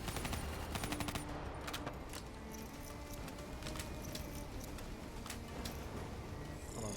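Rapid gunfire in Call of Duty: Black Ops III crackles constantly in fast bursts, with sharp reports scattered throughout against a dense battle background, fairly faint overall.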